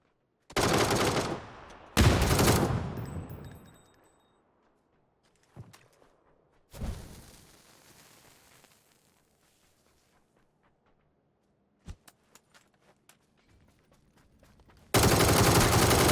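Video game gunfire in PUBG on console: sharp bursts of automatic shots, a couple of louder volleys early then scattered single cracks and distant pops, with a final loud burst at the end.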